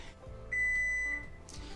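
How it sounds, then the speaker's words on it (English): A kitchen timer on a countertop near an oven sounds a single sustained electronic beep of under a second after a 20-minute countdown while sourdough bakes, loud and close over quiet room noise. "So our 20 minutes has elapsed. Turn our timer off"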